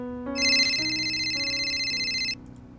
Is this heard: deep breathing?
no